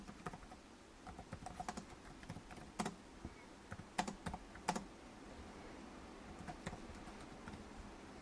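Typing on a Dell G15 Ryzen Edition laptop keyboard: quiet, irregular clusters of light key clicks with brief pauses, close and soft, no voices.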